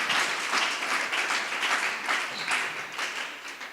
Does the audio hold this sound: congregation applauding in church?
yes